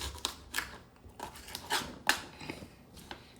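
Knife chopping vegetables for baked fish, a series of sharp, irregular cuts close by, each a quick crisp tap with faint board knocks, heard alone without talk.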